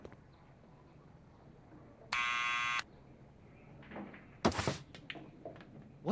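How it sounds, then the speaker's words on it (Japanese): A door buzzer in Back to the Future: The Game sounds one steady, harsh electronic buzz lasting under a second, followed by a couple of soft thunks and clatters, over a faint background hum. "もう一回ブザー。"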